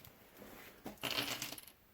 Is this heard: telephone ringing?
no